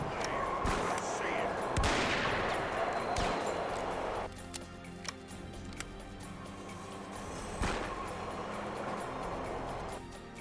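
In a western outlaw video game, several sharp gunshots crack out at irregular intervals, some near and loud, over a busy rumbling background with a voice talking in places.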